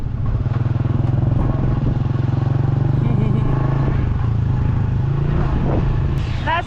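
A motorbike rides along the Bolaven Loop road between Pakse and Mr. Vieng's in Laos, its steady low engine drone running close and continuous with some road clatter and a brief higher whine near the end.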